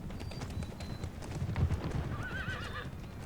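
Cavalry horses in Empire: Total War gallop with a rapid clattering of hooves over background battle noise, and a clear wavering neigh rises near the end.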